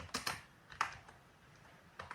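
Typing on a computer keyboard: a few quick clustered keystrokes near the start, a single sharp tap a moment later, then quiet before two more light clicks at the end, all close and fairly faint with no one speaking.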